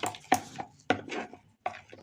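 A spoon works liquid date-palm jaggery around a bowl for a cake batter, giving a few sharp clinks and scrapes against the bowl with short pauses between strokes, close and fairly clear.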